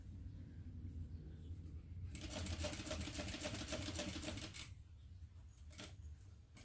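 A home sewing machine runs steadily for a couple of seconds, stitching along a fold of fabric at stitch length 3, a fast even mechanical whir with clicking, then stops, followed by another short burst.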